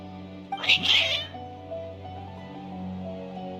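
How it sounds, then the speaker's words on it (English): Cats meowing and caterwauling in the Genshin Impact video game, a loud burst of agitated yowls early on that fades into a steady droning game background. "Your cats seem pretty worked up."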